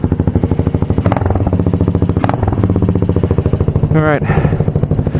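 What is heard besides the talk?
motorcycle exhaust low rumble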